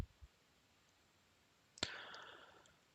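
A single sharp mouse click stands out against faint room noise, leaving a short rustle of handling or movement trailing after it. No voices.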